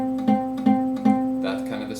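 A guitar note buzzes because the fretting finger sits badly against the fret. The same sustained, slightly rattling note is picked three times in an even rhythm, close and clear, then a brighter, noisier strum follows.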